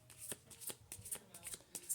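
Tarot cards being shuffled by hand, a rapid series of crisp riffling bursts repeating roughly every quarter second, close and fairly quiet, with no talk over them.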